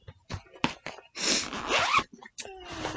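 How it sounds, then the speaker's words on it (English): Several quick zipper pulls on a bag or pouch among crafting supplies: short rasping bursts, then a longer drawn-out zip, close by, with light rustling and a brief voice. "zippers and crinkles are what's going to happen"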